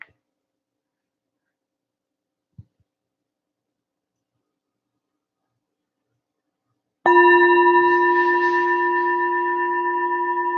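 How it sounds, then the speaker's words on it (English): A meditation bell is struck once, ringing out clearly and sustaining with a long, slowly fading shimmering tone after a quiet pause. "on this final tap of the bell"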